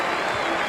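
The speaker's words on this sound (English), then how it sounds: "Martin Crowe getting a big hand from the Basin Reserve crowd" The Basin Reserve cricket crowd applauds Martin Crowe, a dense wash of clapping heard from a distance and sustained evenly throughout.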